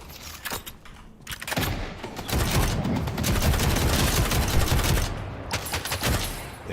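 Rapid bursts of Tesla bullets firing in the video game Deadlock, a dense crackling stream of shots with brief pauses, loud and close, with no talk.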